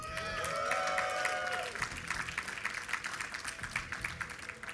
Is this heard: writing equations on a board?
no